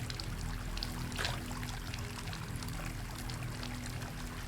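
A steady stream of clean water pours continuously in a video game setting, a soft, even rushing flow that stays constant throughout with no voices over it.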